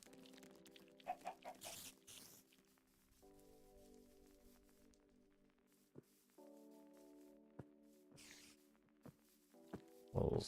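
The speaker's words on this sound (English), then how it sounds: "Chicken jockey. Chicken jockey." Minecraft chickens clucking in short soft bursts amid game sounds, with footsteps and a steady background tone from the game, all fairly quiet, no talking.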